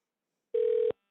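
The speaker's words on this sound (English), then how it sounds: "Okay, you're gonna hear it. It's gonna start ringing." A single electronic telephone ring tone sounds for about a third of a second, clear and isolated against silence, like a phone line starting to ring through.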